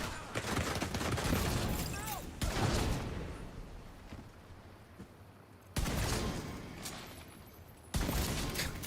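Rapid gunfire in The Division 2, bursts of shots layered over game effects, with someone talking throughout and quieter gaps between volleys.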